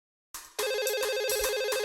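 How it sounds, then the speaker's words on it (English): A business telephone rings in a TV advert: after a brief soft click, a loud electronic warbling ring starts and repeats in fast pulses, close and clear, with no talk. "If your business phone rings and there's no one there to hear it"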